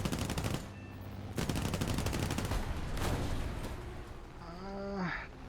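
P-36A Hawk machine guns in the War Thunder air-combat game, rapid bursts of rattling fire in several sustained volleys with short gaps, closing with a quieter tonal engine sound.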